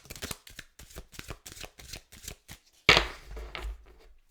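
A deck of tarot cards is shuffled in repeated quick riffling bursts, fairly close, ending in a louder cascade of cards snapping together before settling.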